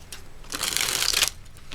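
A deck of healing oracle cards is shuffled in one quick, crisp riffle lasting under a second, close and fairly loud against quiet surroundings.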